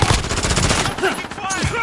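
Dense automatic gunfire in Modern Warfare, loud, continuous bursts filling the short stretch with rattling shots and some faint in-game radio chatter.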